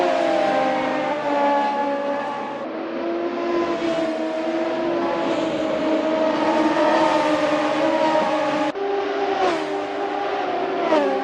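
Radical SR3 race car in Assetto Corsa at Lago Maggiore, engine holding a steady loud high drone with rising and shifting pitch as it accelerates, continuous and close throughout.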